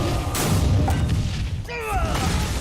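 A Combustion spell effect fires in the Hearthstone card game, a loud booming burst with crackling tails under continuous excited commentary from casters at a Masters Tour match.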